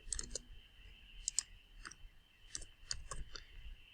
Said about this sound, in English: click at the highest number and drag down